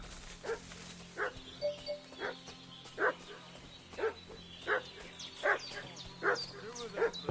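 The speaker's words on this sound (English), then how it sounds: "What's that dog making such a fuss about?" A dog in the medieval role-playing game Kingdom Come: Deliverance II barks repeatedly at a steady, insistent pace, moderately near, over a quiet ambient background with no talking during the barks.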